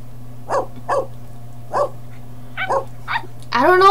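Several short puppy barks and yips, spaced apart with a steady low hum underneath, then a longer whining yelp at the end, in a room where the puppies were born.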